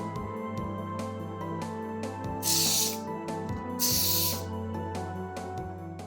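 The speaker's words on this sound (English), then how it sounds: "I'm going to start with a contact cleaner and make sure everything's making a good connection there" Two bursts of contact cleaner spray hiss and fizz onto a light pen connector, each lasting about half a second, loud and close over a steady electrical hum and tonal background.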